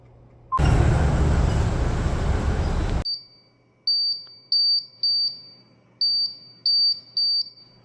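A building fire alarm blasts for a few seconds with a loud, dense, continuous tone, then switches to a repeating pattern of short, sharp high beeps in quick pairs and groups, all heard indoors with no talking.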